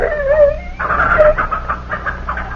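A dog named Tiger snarls and yelps in an old-time radio drama, a few sharp whining cries in the first second followed by rougher growling barks, close and fairly loud.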